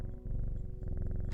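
A cat in a video game purrs in a close, rhythmic rumble with regular pulsing breaths, briefly broken near the start, with no talking over it.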